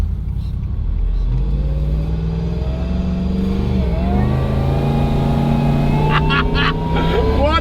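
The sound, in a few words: supercharged Nissan Y62 Patrol 6x6 driving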